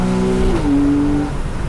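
A Porsche 911 Carrera 4S engine revs hard under acceleration on an open road, a loud, steady drone whose pitch climbs and then steps to a new gear, continuous and close throughout.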